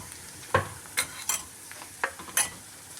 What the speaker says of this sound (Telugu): ఇవి వేగినవండి, కొంచెం వేగినాక వంకాయలు వేద్దామండి